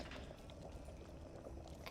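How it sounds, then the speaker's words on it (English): Wort boiling in a brewing pot in Brewpub Simulator, a faint, steady bubbling and seething that stays continuous and even throughout. "Once it reaches boiling point, it'll start boiling"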